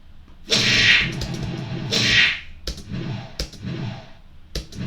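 Two airy whooshing swooshes from a Flappy Bird clone game built in Python/Pygame, each a short burst about a second apart, followed by softer clicking taps, with no talking.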